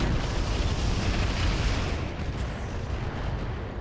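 Mech weapons fire in the BattleTech RogueTech game as a dense, continuous roaring barrage of explosions and gunfire, loud and sustained throughout, easing slightly toward the end.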